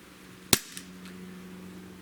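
Single sharp shot from a Barra 009 CO2 pistol firing a 5.1 grain zinc BB, a crisp close crack followed by a faint ping and brief ringing, in an otherwise quiet setting.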